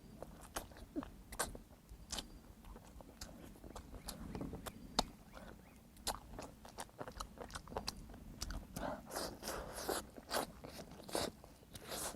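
Cola-braised chicken wings being bitten and chewed up close, a series of sharp crunchy bites and wet chewing sounds in an irregular rhythm, with quiet background noise and no clear talk.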